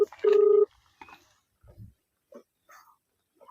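Phone call ringing through on a village roadside: a single steady electronic ring tone, fairly loud and close, then a few faint scattered noises and brief sounds in near silence, with no talking.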